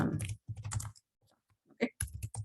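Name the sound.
typing on a computer keyboard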